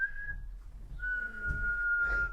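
A person whistles through their lips, giving a thin, steady tone. After a brief break it returns slightly lower and holds to the end, faint and close, with no talk.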